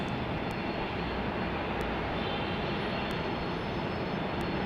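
A Beechcraft Premier 1 business jet departs Salt Lake City Airport, a loud, steady broadband engine roar throughout with no voices.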